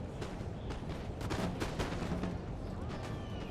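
Musket volleys in Napoleon Total War crackle in a dense, continuous battle din, with sharp shots popping out over rumbling gunfire and distant booms, all fairly loud and unbroken.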